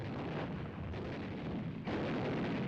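Heavy, sustained rumble of gunfire and artillery from Japanese positions in tunnels, caves and bunkers during a Pacific island battle in World War II, a dense, continuous roar with a slight swell near the end.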